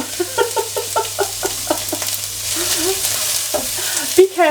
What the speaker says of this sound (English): I'm just going to put them in my hot pan and fry them.